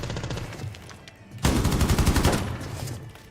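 Rapid automatic gunfire from an operator's weapon in Rainbow Six Siege, a loud close burst of fast repeated shots that jumps in intensity midway and rattles on for about two seconds with no talking.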